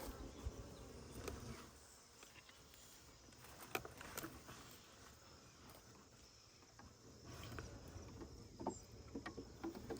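Many bees hum steadily around a hive box while being rescued from a tree trunk, a continuous mid-level drone broken by occasional louder fly-bys and handling knocks.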